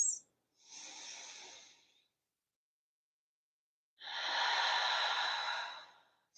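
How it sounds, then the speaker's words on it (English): Slow, deep yoga breaths, one long airy exhale followed by a pause and another fuller, sustained breath, close and soft with no talking. "very slowly begin to deepen your breath"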